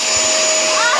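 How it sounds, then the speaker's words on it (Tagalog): A vacuum cleaner runs with a loud, steady broadband whoosh and a thin high whine, filling the entire second without pause. "It's vacuum."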